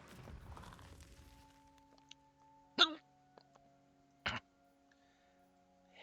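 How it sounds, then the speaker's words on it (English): Two sharp, distinct hiccups from someone during a Warhammer lizardmen gaming stream, spaced about a second and a half apart over a quiet background hum after fading talk. "Hiccups suck."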